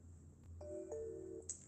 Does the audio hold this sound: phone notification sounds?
yes